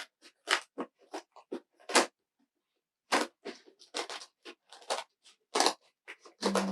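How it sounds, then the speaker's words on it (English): Material is cut away for a blocked hat base, with a run of sharp, close snips and crunchy cuts in irregular bursts and a short pause partway through. "All right, I'm going to start cutting it away now."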